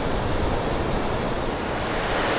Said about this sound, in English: is protecting Dayton from the raging waters of the Mad River here